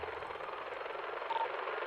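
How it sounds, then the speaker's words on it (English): A helicopter in GTA 5 flies overhead with a steady, close, whooshing rotor drone that holds at an even loudness throughout. "Do you see that helicopter?"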